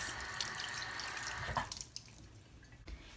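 A dirty makeup brush is rinsed under a running tap, water streaming steadily into the sink before the flow is cut and a few splashes and drips follow.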